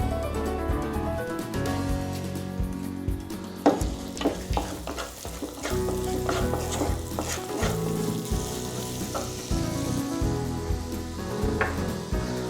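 Finely chopped garlic and ginger fry for keema with a loud, continuous sizzle, punctuated by scraping stirs and sharp clacks of a spoon against the pan, with no voices.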